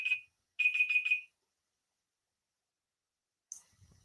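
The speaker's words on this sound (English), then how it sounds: "That's our timer." A timer alarm gives a short electronic beep, then a quick run of four rapid beeps, then silence, followed later by a faint higher chirp and soft rustling.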